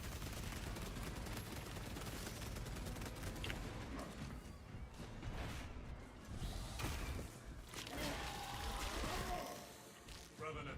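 Rapid gunfire from Halo played solo on Lethal difficulty, a dense, sustained clatter of shots filling the whole stretch with a voice talking over it.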